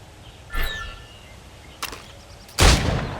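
Gunshots at targets in Assassin's Creed Rogue: three separate sharp cracks spaced across a few seconds, the last the loudest, with quiet game ambience between them.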